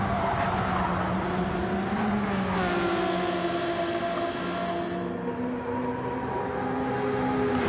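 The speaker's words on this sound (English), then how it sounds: "they're both in really fast cars in a straight" Fast race cars running flat out down a straight, engines howling with high pitch sweeps rising and falling as they pass, steady and loud with tyre noise mixed in.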